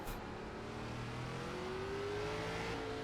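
Race car engine in iRacing at the Indy road course in an ARCA Series race, a sustained whirring drone with a rising pitch as it accelerates, steady and moderately loud with no talk.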